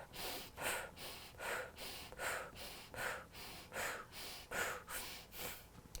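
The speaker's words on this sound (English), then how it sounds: "we're gonna go ahead and inhale and exhale" Deep diaphragm breathing, slow and close, with about eight even cycles of airy inhales and exhales in a steady rhythm and no talking.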